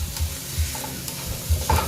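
Mixed vegetables sauté in a hot pan, a close, loud sizzle broken by several scraping clacks as they are stirred, with no voices.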